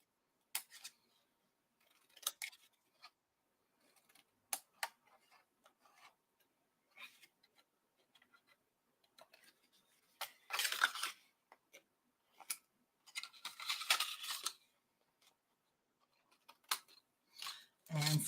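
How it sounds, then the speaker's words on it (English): Scissors snip through a folded Post-it note paper cube along its bottom edge, giving short quiet crisp cuts and rasping rubs spread irregularly, with a couple of longer louder bursts of cutting near the middle and end. "So we're going to cut off the bottom."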